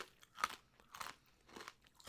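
Crunchy spicy chicken wings are chewed close up, three distinct crackling bites spaced about half a second apart in a quiet room.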